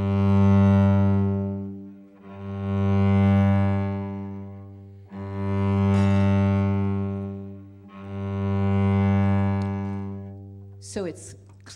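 The same low note from Bach's G major prelude sounds four times in a row, each sustained and swelling for about two to three seconds, played alone and close up, with a brief scrape at the end.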